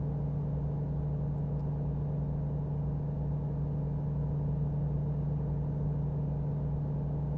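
A truck engine in American Truck Simulator hums along at steady cruising speed during a night drive, a constant low rumble with a droning tone, even and unbroken throughout.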